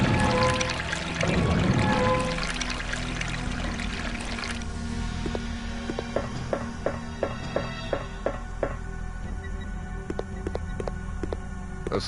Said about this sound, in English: This is where the water drained from.